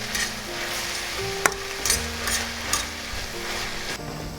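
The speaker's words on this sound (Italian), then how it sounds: "Facciamo cuocere le cipolle a fuoco medio-basso, con una dose generosa di olio." Onions frying in a generous amount of oil over medium-low heat, a steady close sizzle with occasional stirring scrapes and clinks of a utensil in the pan.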